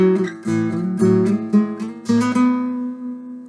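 A plucked lowest A string rings out in several successive low notes, warm and sustained, then decays into silence at the end.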